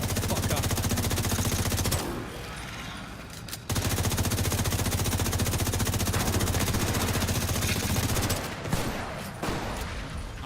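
Dense automatic gunfire in a video game, rapid continuous bursts that stop briefly then resume, loud and close, with a voice occasionally underneath.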